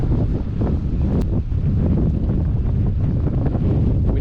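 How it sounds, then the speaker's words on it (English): Strong outdoor wind roars and buffets the microphone continuously, a loud, steady rumble with gusty surges and no voices. "Wind doesn't know what it's doing."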